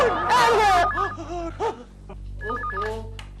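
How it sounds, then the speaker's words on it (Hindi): A warbling telephone ring repeats twice amid lively, animated voices, with a low steady hum underneath. "केशव फोन क्यों नहीं उठाते?"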